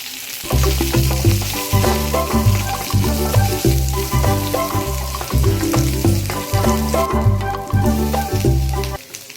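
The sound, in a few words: mustard seeds, curry leaves and green chillies frying in hot pan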